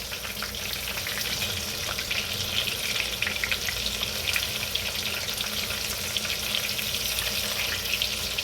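Food frying steadily in hot grease, partly cooked before finishing in an oven, with a dense continuous sizzle throughout and no voices.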